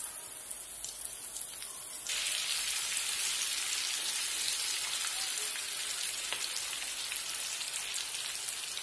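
Stuffed red chillies for pickle cook over medium heat in a pan of already roasted spice masala. A steady, fine sizzle and crackle grows louder after a couple of seconds and keeps going evenly, with no talking.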